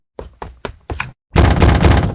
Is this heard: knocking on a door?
yes